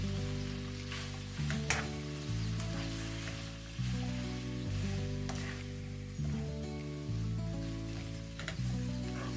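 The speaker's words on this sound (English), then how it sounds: "So I'll be adding my pak choy now." Pak choy sizzles as it is dropped into a pan over low heat, a steady frying hiss that runs throughout, partly masked by louder tonal background music.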